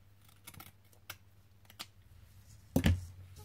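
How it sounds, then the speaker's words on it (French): Blade or scissors snipping during a vintage paper craft, a few soft, separate snips followed by one louder, sharper cut near the end, close up and quiet. "Hop, je vais couper."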